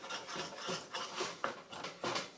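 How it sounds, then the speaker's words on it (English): Granulated maple sugar scraped from the side of a pan, a steady gritty rasping that comes in repeated strokes, fairly close and alone. "We'll scrape the side of our pan here."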